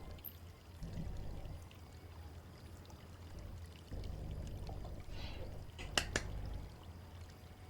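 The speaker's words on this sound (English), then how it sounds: "I wish to empty the bottle of water, though." Water glugs and trickles as a bottle is emptied in the game Foolish Mortals, a soft, low pouring sound that rises in two stretches and ends with a few brief splashy drips.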